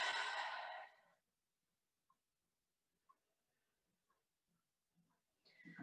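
A long, breathy exhale at the start of a slow yoga forward fold, followed by near silence with a few faint ticks, then another rising breath at the end.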